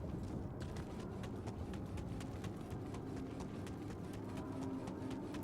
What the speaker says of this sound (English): I like our little footstep sounds.